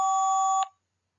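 A single steady electronic tone from a mobile phone voicemail box, lasting just over half a second before cutting off cleanly into silence.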